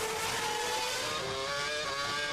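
Formula One cars at the 2007 Monaco Grand Prix, including a Renault and a BMW, scream past with loud, high-pitched engine wails, dense and continuous throughout.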